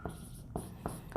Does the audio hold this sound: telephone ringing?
no